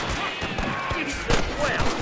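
Gunfire in the Western video game Red Dead Redemption, a few sharp reports cracking over a busy, noisy game mix of shouting and ambient clatter, with a heavier burst near the end.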